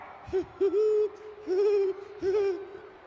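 Someone at a baseball game imitates a great horned owl with deep, steady hoots, close and clear: a short note, then a long held one, followed by two more drawn-out hoots with pauses between.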